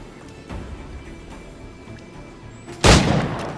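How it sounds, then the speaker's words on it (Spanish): Two pistol gunshots in the video game Assassin's Creed IV Black Flag: a soft pop early on, then a louder sharp shot near the end that rings out with a short echo. "Vamos probando la pistola a ver si va bien."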